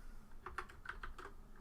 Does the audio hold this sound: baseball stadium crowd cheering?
no